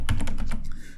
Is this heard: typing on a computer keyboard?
yes